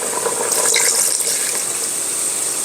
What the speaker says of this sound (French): Je vais remettre un petit peu d'eau. Un verre d'eau.